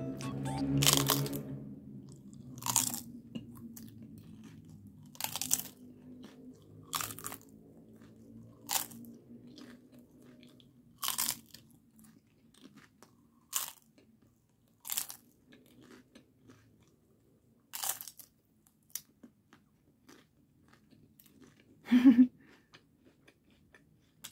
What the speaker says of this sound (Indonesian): aku tunjukin ya seberapa kriuk makanan ini